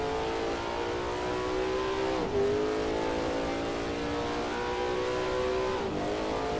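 A race car engine in Assetto Corsa at a 1939 Chimay Grand Prix event, revving in two long rising pulls, each ending with a brief drop at the gear change, loud and continuous with no talk.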